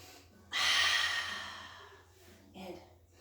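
Deep breath drawn in during a group exercise class, one loud, rushing inhale close by that tapers off, followed by a quieter second breath.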